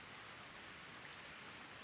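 Heavy rain pouring outside and pelting window glass, heard as a steady, even hiss of dense drops with no letup and no voices.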